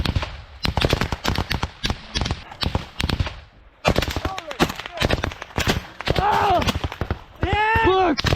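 Rapid gunfire crackles in an intense exchange during an assault on a Russian-held village in Ukraine, with dense bursts of automatic shots, loud and close, broken by short pauses and voices calling out between volleys.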